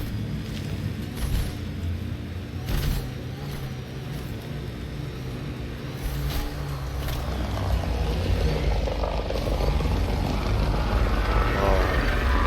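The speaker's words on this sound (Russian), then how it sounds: "Шахтерский дрон" A mining drone flying in the video game Mass Effect: Andromeda gives a steady mechanical engine drone that builds a little louder toward the end, alone and with no talking.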